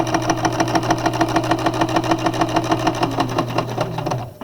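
A sewing machine stitches fabric while a quilted fish is sewn, running at a steady fast pace with an even mechanical clatter throughout before winding down at the end.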